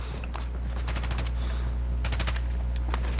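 Video game gunfire in rapid bursts of automatic shots, moderately loud, rattling over a steady low background hum.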